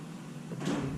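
A drawer in an electronics lab slides open with a brief, soft rolling rush that swells near the end, heard close and alone.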